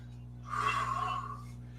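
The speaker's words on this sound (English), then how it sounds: "Breathing." A yoga practitioner takes a single audible breath while holding Warrior One pose, a soft airy exhale that swells and fades over a steady low hum.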